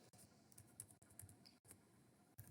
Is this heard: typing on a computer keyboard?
yes